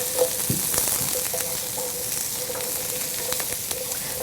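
Sliced mushrooms sizzle and fry in a hot pan, a steady crackling hiss with a few soft stirring clicks, close and constant with no talking.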